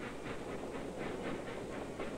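A steam locomotive train runs along railroad tracks, giving a steady, continuous rumble and hiss with faint rhythmic clatter throughout, at moderate distance and with no voices.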